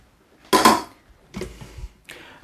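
A pot lid is set onto a pot of rice stacked over curry, one loud metallic clank followed by two softer rattling knocks, close and without speech.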